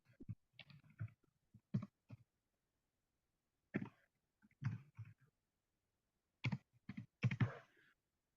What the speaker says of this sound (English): I can see if I can type that in the chat